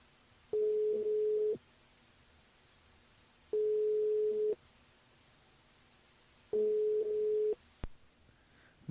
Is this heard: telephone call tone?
yes